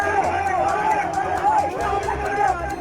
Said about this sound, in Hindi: वीडियो में दिख रहा है भीड़ ने पुलिस वालों को घेर रखा है और लगातार नारेबाजी कर रहे हैं।